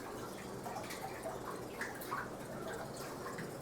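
Water churning and splashing in an aquarium driven by Jebao WP-40 wave pumps on a fast wave setting, a steady wash with scattered light drips and splashes, close and moderately quiet.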